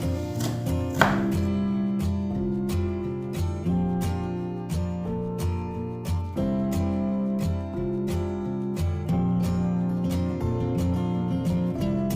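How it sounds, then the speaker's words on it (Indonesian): Quick, rhythmic knife chops tap steadily on a board as spices are chopped into small pieces, while tonal music plays throughout. "semua bumbunya dipotong kecil-kecil agar lebih mudah menghaluskannya"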